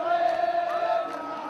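A crowd of protesters celebrates at the Pearl roundabout, a dense mass of shouting and chanting voices heard at a distance, sustained and fairly faint.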